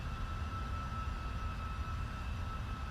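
Cockpit of a WestWind business jet on final approach for runway 4 right, a steady dense roar of engine and airflow noise with a faint whine on top, constant and close with no talk.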